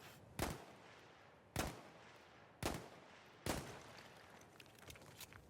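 Four loud, sharp gunshots from a Peacekeeper pistol in the video game Battlefield 1, evenly spaced about a second apart, each with a short ringing tail and no speech.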